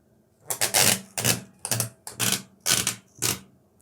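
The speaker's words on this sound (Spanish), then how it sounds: "voy a abrir de esta forma esta cinta" Plastic tape being pulled open in six rough, tearing bursts, each a crackling rip of about a third of a second with brief pauses between, close and fairly loud.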